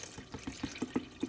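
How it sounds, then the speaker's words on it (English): Water poured into a pot over a whole bird for broth: close, rhythmic glugging splashes in quick succession, fairly quiet with no talking. "So what we're gonna do is just gonna put 8 cups of water in here."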